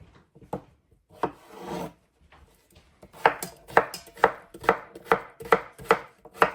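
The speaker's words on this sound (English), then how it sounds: "Chop these up as well." Knife chopping English cucumber on a cutting board: a few scattered cuts, then a steady run of crisp, evenly spaced chops, close and fairly loud, with no talking.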